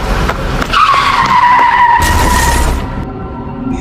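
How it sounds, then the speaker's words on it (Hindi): A car skids hard on a road just before striking someone, its tires letting out a loud, close, sustained screech that ends with a brief harsh impact burst and then fades to quieter noise. "गुल्ली एक गाड़ी से टकरा जाता है और वहीं गिरकर बेहोश हो जाता है।"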